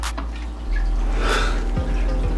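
Water leaking from a home aquarium drips and splashes in a steady wet patter, with a brief brighter gush midway and a few distinct drops near the end, fairly close and alone.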